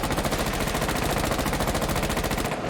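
Rapid automatic gunfire from a Rainbow Six Siege match, a dense, loud, unbroken stream of shots lasting nearly three seconds before cutting off abruptly at the end.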